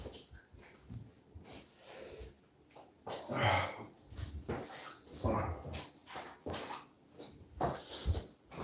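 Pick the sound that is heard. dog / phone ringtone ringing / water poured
dog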